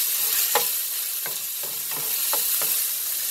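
Chopped garlic stirred in a pan on the stove, a soft steady sizzle broken by about six short scraping strokes at an even, unhurried rhythm, close up with no talking.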